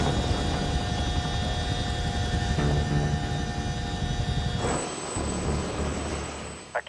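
A light aircraft's engine hums steadily and loudly through a taxi run, a constant drone with a tonal whine, which shifts near the end as the engine note changes.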